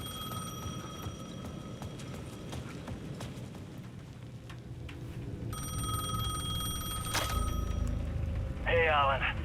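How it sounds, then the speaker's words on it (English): A payphone rings at the edge of a plaza in the video game Alan Wake 2, repeated bright ringing bursts over a dark ambient bed with rain-like texture. "The payphone at the edge of the plaza was ringing again."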